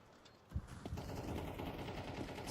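Rapid automatic gunfire in Counter-Strike 2 during a match on the Rush map, a dense continuous rattle of shots far in the mix after a sharp opening crack, with no talk over it.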